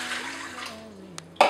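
Warm water being poured into a measuring cup for bread dough, a soft steady trickle whose pitch slowly shifts as the cup fills, ending with a couple of brief clinks.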